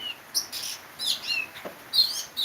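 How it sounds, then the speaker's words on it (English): A small bird chirps very close by in a series of short, high, bright tweets and trills, spaced irregularly across a couple of seconds against a quiet background. "That little bird is so close to me, like maybe 3 arms away."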